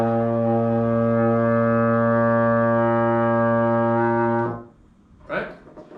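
Baritone horn sounding a single open B flat, a steady, rich sustained tone held for about four seconds before stopping, followed by a brief spoken word.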